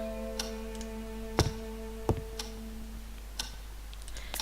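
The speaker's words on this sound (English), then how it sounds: "A majestic grandfather clock was gently ticking nearby." A grandfather clock ticks in the house of the game Scratches, its sharp irregular ticks sounding over a steady low hum and tonal drone, with no voices.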